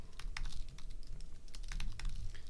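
Steady, rapid typing on a computer keyboard fills the whole stretch with dense, close key clicks over a low background hum and no talking.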